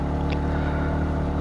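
A motorcycle engine drones steadily and loudly, climbing a steep, badly damaged road on the way to Dieng, a constant low hum without pauses.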